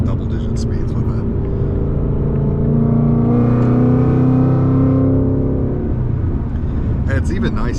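A 2025 Mustang GT with a Whipple supercharger pulls hard in third gear, its engine note rising steadily into a loud, sustained roar and then easing off, heard close from inside the car.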